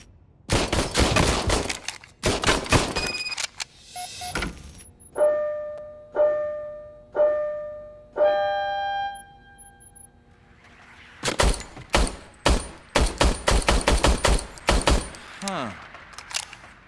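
An old service pistol is test-fired in Robocop Rogue City: a quick volley of sharp gunshots, then a series of metallic clicks and ringing mechanical tones, then another rapid burst of loud shots.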